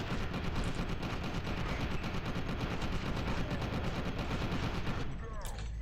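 Sustained, dense automatic gunfire in the F.E.A.R. 2 video game, loud rapid bursts running almost unbroken for several seconds before cutting off abruptly near the end.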